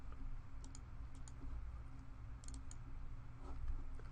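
Keys tap on a computer keyboard in short irregular bursts of faint clicks over a low steady room hum, with no voices.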